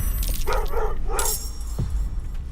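Dog barks from Rocky, a level 1 beast in Baldur's Gate 3: three quick, loud, evenly spaced yaps followed by one shorter bark, heard over steady game ambience with no talking.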